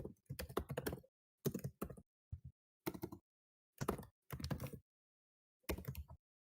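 Short bursts of clicky typing on a computer keyboard come in separate clusters split by silent pauses, close and crisp, with no one talking.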